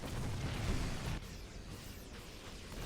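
EMP blasts and bursting units crackle in a StarCraft II match, a dense, loud wash of explosive pops and booms that eases slightly partway through but keeps going throughout.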